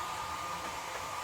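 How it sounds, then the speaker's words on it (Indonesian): A hair dryer blows a steady, even whoosh while heating an uneven plastic body panel on a carburetted Honda Beat scooter under restoration, a close, continuous roar with no talk. "Nah, ini akan kita gunakan hair dryer"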